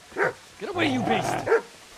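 In the medieval video game Kingdom Come, a dog gives short barks and yips amid shouting, the sharp bursts overlapping a voice at close range.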